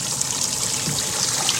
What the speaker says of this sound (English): Got the live well filling up right now.